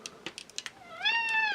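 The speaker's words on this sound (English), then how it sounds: "Hi, cat." A handful of sharp plastic clicks tick past before a house cat lets out a single clear, drawn-out meow up close.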